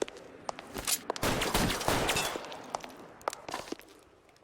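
Gunfire from a shootout in the video game L.A. Noire, with a dense burst of rapid shots in the middle and scattered single cracks before and after, mixed with footsteps and no talking.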